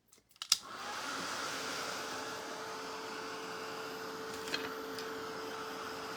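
A hair dryer starts up with a few clicks and then whirs as a steady, close drone, blowing over wet paint on a sunflower door hanger.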